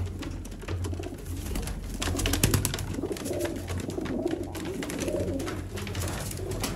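Sialkoti pigeons coo together in a dense, continuous chorus of soft, rolling calls, close and fairly loud, with no talking.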